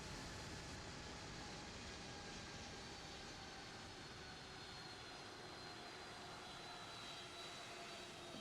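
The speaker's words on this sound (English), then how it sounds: "another aircraft is departing runway 19er" A Boeing 757-200 takes off from a runway in a flight simulator, its jet engines giving a steady, loud, broadband roar with a faint high whine that holds unchanged throughout, no voices over it.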